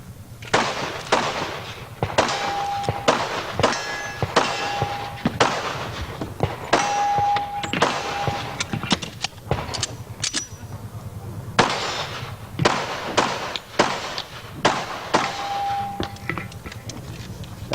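A competitive shooter fires a pistol through a parking-garage stage at a 1988 USPSA national championship, with sharp shots in rapid bursts and short pauses, some ringing metallic clangs of steel targets among them, and no talking.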